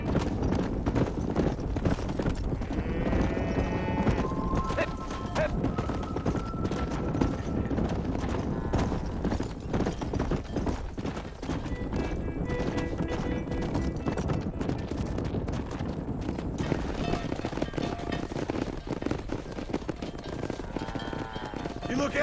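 Horse hooves clip-clop at a steady gallop in Red Dead Redemption, an occasional whinny and game music running underneath, while voices talk intermittently over the ride.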